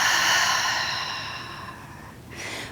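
A single long open-mouthed exhale during a yoga breathing exercise, a breathy whooshing release that fades gradually over about two seconds, followed by the start of a fresh breath.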